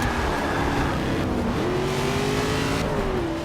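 A car engine revs hard and steady in Forza 6 while drifting with traction control on, its loud sustained whine sliding in pitch with shifts. No voices are heard over it.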